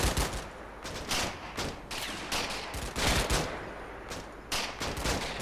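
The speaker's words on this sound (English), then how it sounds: "That shootout is suppression." Suppressive fire in the wartime game Combat Mission: Battle for Normandy, with dense overlapping rifle and machine-gun bursts that keep pounding without a break, loud and near, with no voices.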